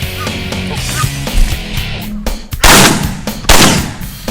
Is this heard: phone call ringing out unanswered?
no